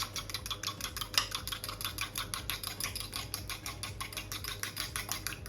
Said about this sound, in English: I'm just going to give this egg a quick beat